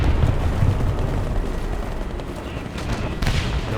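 Cannon shots from a Swedish Strv m/41 S-II light tank in the War Thunder video game boom loudly within dense, continuous battle noise, with a few sharper blasts near the end.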